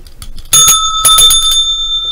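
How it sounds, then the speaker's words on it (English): A bicycle bell rings loudly and close, several quick bright dings after a short quiet start, their metallic tone ringing on to the end, with no voices. "All right, enough of that bell."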